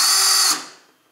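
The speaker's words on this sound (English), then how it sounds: "I even resorted to actually using this lawnmower blade grinder" A lawnmower blade grinder whines loudly for about half a second and then spins down, its high-pitched motor tone fading quickly into silence.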